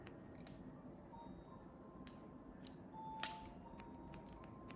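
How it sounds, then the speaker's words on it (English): Scissors point-cutting hair for a short layered bob snip close and quiet in a salon, several crisp clicks scattered irregularly over a soft background hiss. "we're gonna come in here and we're gonna point cut into this"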